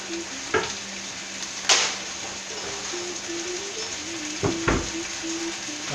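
Salted taco meat sears on a hot grill, a steady sizzle under a couple of sharp metallic clanks and scrapes from utensils, close and moderately loud.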